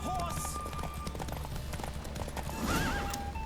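Roach the horse gallops in a race in The Witcher 3, steady hoofbeat clip-clop running throughout with a loud whinny near the end, over game music and a voice speaking.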